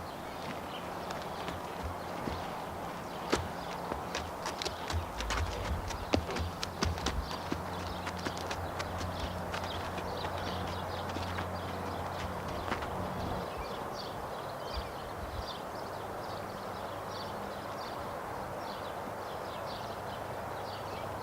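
A saddled horse walking with a big, swinging stride, hooves clip-clopping in a steady, continuous rhythm at moderate distance, with faint birdsong in the background.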